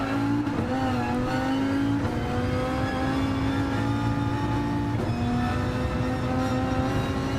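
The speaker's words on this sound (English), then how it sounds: "Just listening to that transmission, those gear shifts," Race car engine in Gran Turismo 7 at Mount Panorama, droning loud and steady with rising revs and clean gear-shift steps in pitch, several shifts heard across the run.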